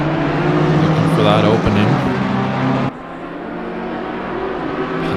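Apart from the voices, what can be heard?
GT3 race cars passing, from video game Assetto Corsa Competizione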